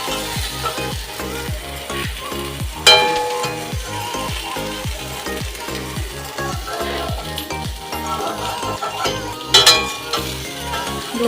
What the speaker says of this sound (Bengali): সেই বুঝে বেগুন ভাজতে গেলে একটু তেল তো লাগবে ভাই।